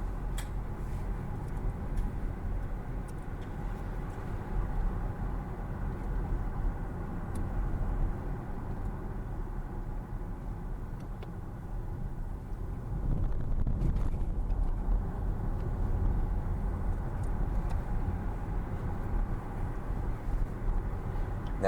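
A car driving through downtown Milford, Delaware, giving a steady, loud low rumble of engine and road noise with wind buffeting the microphone throughout.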